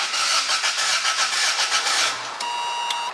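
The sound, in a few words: Toyota MR2 engine being started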